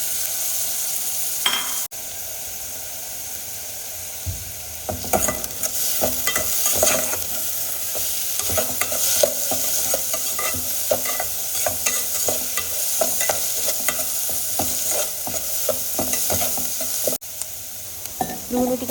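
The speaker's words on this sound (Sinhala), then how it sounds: "මුලින්ම තෙල් ටික රත් වුණාට පස්සේ මම ඒකට ලුණු එකතු කරලා ටිකක් වෙලා බැද" Onions fry in hot oil inside a rice cooker, making a steady sizzle broken by the clatter and scrape of stirring. The sound is close and moderately loud and runs on for a while.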